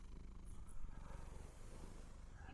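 A low, continuous rumbling purr, close and steady, voiced by a person imitating a contented cat, with no other sounds.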